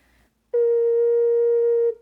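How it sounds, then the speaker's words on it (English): A single steady low A sharp from an ocarina, pure and held for about a second and a half, then cut off. "Let's start with a low A sharp or B flat."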